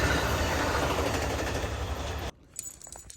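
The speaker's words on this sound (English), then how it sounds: "Here is an Amtrak that just went by." An Amtrak train rushing past outdoors, a loud broadband roar with faint rhythmic rattling that cuts off abruptly, leaving quiet background with a few light clicks.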